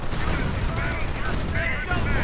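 Video game battle with rapid small-arms gunfire, a .30 caliber machine gun and the heavy booms of a StuG assault gun. Dense, continuous shooting and blasts fill the whole stretch, with a commentator talking over them.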